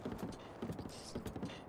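Horse hooves clopping on a bridge in Zelda: Breath of the Wild, a steady rhythmic clip-clop with creaking wood and faint tack jingles, close and continuous.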